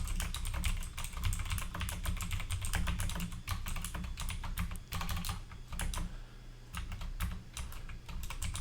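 Rapid keystrokes on a computer keyboard while code is being written, close and crisp clicks in quick bursts with brief pauses between runs.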